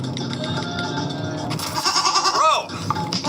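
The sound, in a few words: person imitating a goat bleat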